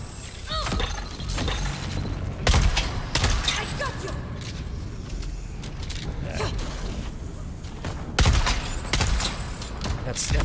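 Gunfire shots in the Dune: Awakening video game, sharp cracks scattered across a busy stretch of game noise, with a couple of louder hits and talk running underneath.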